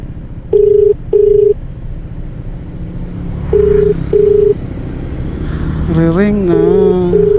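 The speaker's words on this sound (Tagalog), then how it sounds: "Ayan, nare-ring na." Telephone ringback tone on a call, heard as short steady beeps in repeated pairs over background hum, with a voice talking near the end.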